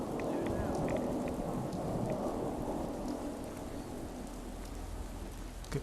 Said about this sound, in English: how long is this storm going to last? It's much longer than the normal rad storm.